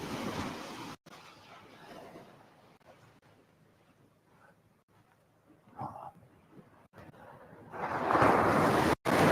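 Ocean waves wash onto a remote Australian beach at a fishing spot, a soft surf hiss that swells and fades, rising to a louder rush toward the end with some wind buffeting the microphone.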